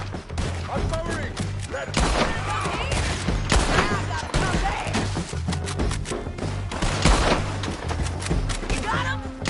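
Rapid bursts of gunfire in a PS4 shooter video game, with repeated volleys and sharp shots crackling close and loud across the whole stretch.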